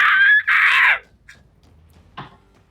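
Human voice imitating a creature's loud, stunning screech: two long harsh shrieks, one brief pause between them, followed by quieter scattered noises and a short rasp, close and very loud.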